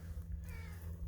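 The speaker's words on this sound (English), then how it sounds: "a cat that's trying to rub up against the internet" Raja, a pet cat, gives a faint meow over a steady low hum, brief and quiet within background noise.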